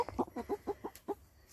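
Homestead chickens clucking close by, a quick run of about seven short rhythmic clucks over roughly a second, fairly faint.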